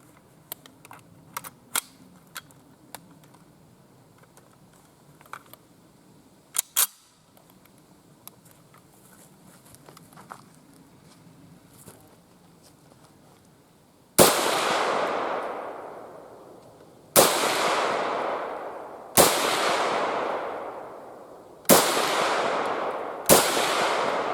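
An M1 Carbine rifle fires five loud, sharp shots outdoors, each followed by a long echoing decay, after a stretch of quiet handling clicks and rustles.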